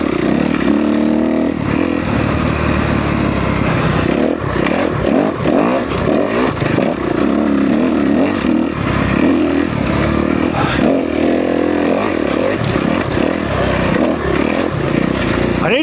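A 2013 Kawasaki KX250F dirt bike engine roars steadily on a test ride, loud and close throughout, with rapid throttle blips and rattling clatter from the chassis, and no talk.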